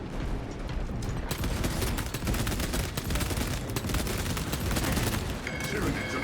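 Bolter fire rattles through a Warhammer 40k: Space Marine 2 battle, rapid dense bursts of heavy gunfire hammering continuously at close range, with some talk mixed underneath.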